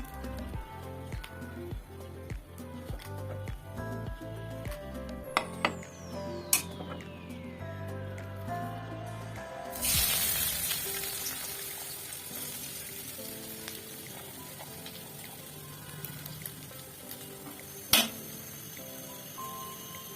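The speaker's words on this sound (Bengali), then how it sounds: "পেঁয়াজ ভেজে নেব।" Onions dropped into hot mustard oil in a kadai set off a loud broadband sizzle about halfway through, continuing steadily to the end after a quieter stretch of kitchen sounds and faint tonal background.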